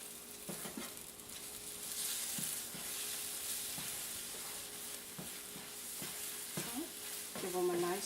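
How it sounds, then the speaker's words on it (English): Eggs scrambled in a hot pan sizzle steadily while a utensil taps and scrapes at irregular intervals, with a few short vocal sounds near the end. "Give them a nice scramble."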